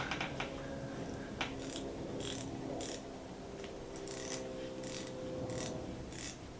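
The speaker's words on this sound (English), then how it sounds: "Little itty bitty 4749 Proto 1/4-inch ratchet." A small Proto 4749 1/4-inch ratchet being worked, giving faint rapid clicking in short bursts over a steady background hum, close but quiet, with no talk.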